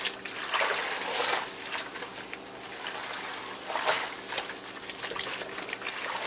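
Yarn braid locs being swished and sloshed around in a basin of water like laundry, a steady close trickling and splashing with a couple of louder surges.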